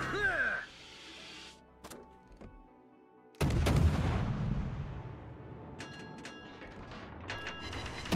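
A tank cannon fires an HE shell in a naval-and-tank combat video game, a single heavy boom followed by a rumbling tail and clanking mechanical sounds, with a commentator's voice heard briefly beforehand.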